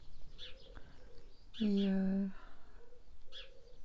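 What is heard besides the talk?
small birds near an open skylight window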